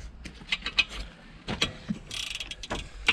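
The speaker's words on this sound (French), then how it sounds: "Bon, on va prendre le cliquet." Rapid metallic ticking of a ratchet wrench working on the wheel studs of an Audi A3 1.9 TDI, close and sharp, in uneven bursts of clicks with short pauses between turns.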